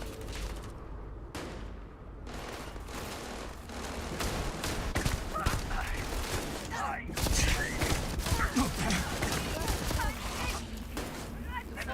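Sustained gunfire in the game Starfield Shattered Space, dense rapid shots and thumping impacts in continuous bursts over a busy combat mix, with voices talking underneath.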